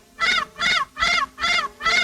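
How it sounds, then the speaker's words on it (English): A goose-like bird honks loudly and close five times in a steady rhythm, each honk harsh and nasal, in a 1941 black-and-white comedy-thriller set in a haunted railway station. "Will you keep that confounded bird quiet?"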